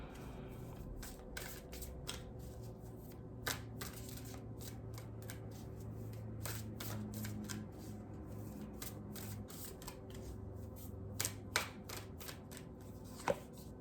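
Oracle cards shuffled close by, with repeated soft riffling and snapping flicks in irregular bursts over a low steady hum, plus a few sharper clicks toward the end.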